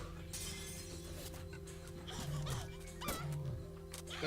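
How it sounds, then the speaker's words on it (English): A dog monster in the video game Shadow Hearts gives snarling, growling barks over layered game music and effects, two distinct howling yelps standing out near the end amid a busy battle soundscape. "That certainly is a dog monster."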